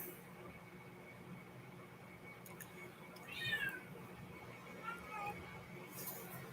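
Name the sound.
cat meowing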